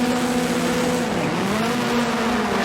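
Rallycross cars launch together off the start line in a 2018 World Rallycross qualifying race in South Africa, a loud, steady engine drone that holds and bends slightly in pitch, with nobody speaking over it.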